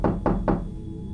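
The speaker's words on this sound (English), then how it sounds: "suddenly another forceful knock came upon the window" Three forceful knocks strike a window in quick succession, close and sharp, each a hard thud, with the third followed by a short fading ring and then quiet.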